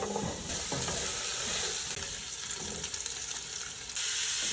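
Chicken pieces fry in a pan for chicken mechado, a steady close sizzle with occasional stirring scrapes and no voices.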